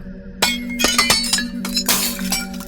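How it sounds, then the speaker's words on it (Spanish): Glass shattering indoors inside a house, a horror-story sound effect: a sudden loud crash followed by several sharp clinks and tinkling fragments, then a second burst of breaking glass, with no voices. "se escuchó que se quebró algo adentro de la casa, algo de vidrio"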